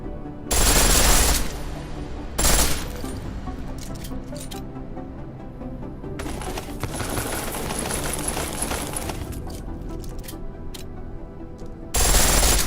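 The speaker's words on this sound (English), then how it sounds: "The pistol in full auto will take down targets fast, but it'll burn through your ammo" A pistol firing in full-auto in Deus Ex Mankind Divided: two sharp, loud bursts of rapid shots close together, then a quieter stretch of scattered clicks and a longer rattling spell before another burst at the end.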